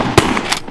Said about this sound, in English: I took my first shot with a shotgun at a target.